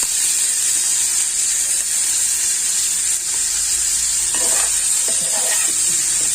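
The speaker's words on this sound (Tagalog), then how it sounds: "Gisihon sa natin ng kamatis para lami" Tomatoes sizzling and frying in a pan during a vegetable sauté with garlic, a steady loud hiss throughout, with a few stirring scrapes near the end.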